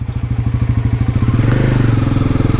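A Bajaj Pulsar NS400Z motorcycle engine close by, running with a steady, rapid thumping idle pulse that picks up slightly into a fuller, smoother beat partway through; no voices.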